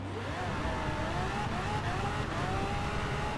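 A Lamborghini Aventador J driven in Forza Horizon 4, its engine revving in steady rising-and-falling pulls, loud and close, a continuous throaty drone with shifting pitch throughout.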